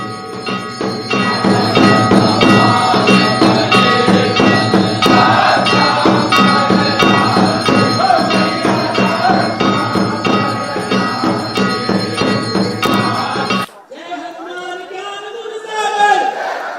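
Temple bells clang in a rapid, loud, continuous rhythm with crowd chatter during Navratri worship in a north Indian temple, then stop abruptly near the end as a voice speaks alone.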